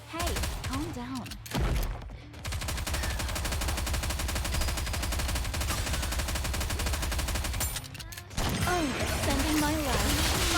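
Sustained machine-gun fire in the mobile shooter Nikke: Goddess of Victory hammers away in long dense bursts broken by short gaps, loud and up front, while game characters speak over the battle.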